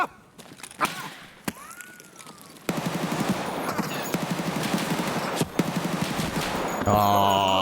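Gunfire in Escape From Tarkov: sparse single shots at first, then a sustained, rapid automatic burst that runs for several seconds, loud and dense, ending in a steady tonal hum.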